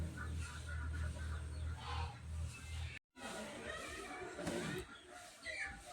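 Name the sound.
10-day-old quail chicks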